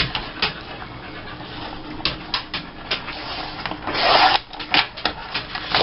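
Paper trimmer slicing through a photo for a scrapbook page, a series of short scraping rubs and swishes with one longer, louder cut near the end, close and quiet with no talking.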